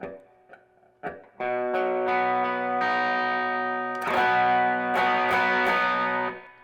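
A few quiet picked notes, then a sustained distorted electric guitar power chord in drop D# tuning, top string muted, rings loud and close, with a sharper re-strum partway through.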